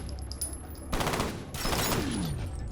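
Rapid bursts of automatic gunfire from the first-person shooter game F.E.A.R., loud and dense, arriving in two sustained volleys with a falling whine near the end and no voices.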